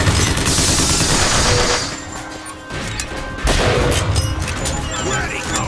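Rapid bursts of automatic gunfire from a Bioshock Infinite firefight, loud and dense with crashing impacts, easing briefly in the middle before another heavy volley resumes.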